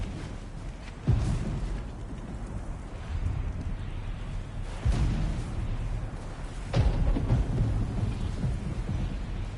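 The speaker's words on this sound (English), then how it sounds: "Just a little thunder." Thunder rumbles in God of War Ragnarok during a rainstorm, three heavy booming swells rolling over a constant wash of rain, deep and sustained with no voices.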